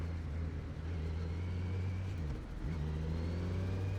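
A 2020 Kawasaki Z900 motorcycle held in third gear through Mumbai city traffic at low speed: a steady low engine drone with a brief dip in revs midway before settling back, constant and close.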